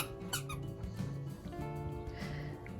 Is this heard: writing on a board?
no